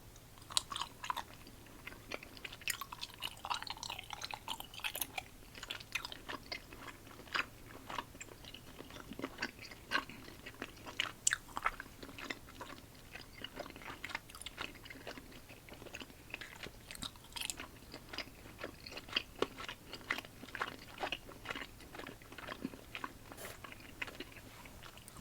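Christmas plum-flavoured candy chewed close to the mic, steady crunchy bites and wet chewing continuing throughout, soft and intimate with no talking.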